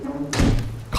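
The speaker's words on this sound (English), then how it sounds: "Oh, I love the sound of that door." A heavy door swings shut in the video game Subsistence, a dull clunk followed by a deeper thud and a second knock, close and solid, with voice chatter around it.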